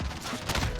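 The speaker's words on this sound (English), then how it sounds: "that was the FAMAS" Burst-fire FAMAS rifle in Call of Duty: Modern Warfare (2019), several rapid sharp shots in quick succession over a busy background of game noise.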